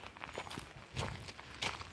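Footsteps crunch over a pile of natural debris such as leaves and twigs, a steady run of soft rustling steps at close range, with two heavier crunches standing out near the middle and the end.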